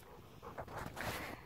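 A dog pants in quick, breathy bursts close by, with a faint whimpery edge, inside a house under renovation, audible throughout the short stretch.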